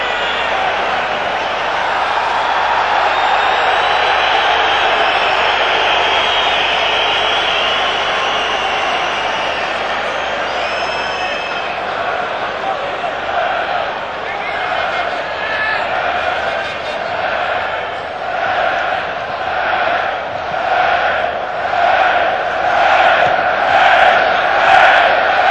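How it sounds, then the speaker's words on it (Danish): Danish football spectators cheer in a stadium at the 1992 European Championship final against Germany, a loud, continuous crowd roar that swells into rhythmic chanting toward the end. "Som vi kan høre det, de nyder det, de danske tilskuere"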